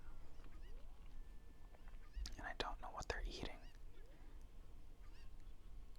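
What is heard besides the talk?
cuckoo chickens clucking in Zelda Ocarina of Time, from a video game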